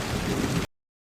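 Rain falls steadily in a short burst, a dense hiss of drops that cuts off abruptly into silence.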